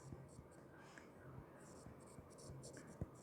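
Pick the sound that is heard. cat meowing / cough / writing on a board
writing on a board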